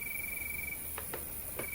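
Crickets chirp in a steady, thin high trill, with a few short, sharper chirps standing out against a quiet background and no voices.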